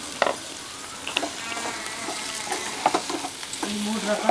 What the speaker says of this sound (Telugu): ఉల్లిపాయ మంచిగా ఆయిల్లో వేసేస్తుంది.